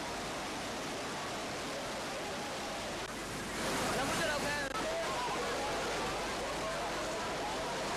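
Fast, rushing floodwater surging around a trapped jeep: a dense, continuous roar of churning water that swells louder midway through and stays heavy to the end.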